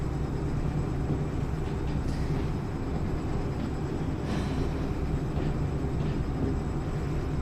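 Video-game freight train rolling steadily with a continuous low rumble and rail clatter, loud and unbroken, with faint higher screeches now and then and no talking.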